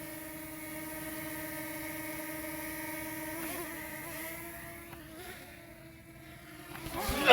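Propeller blades of a drone buzzing close overhead in woods near a construction site. A steady high-pitched whine with strong tonal harmonics shifts pitch as the drone moves, then ends in a louder rush near the close.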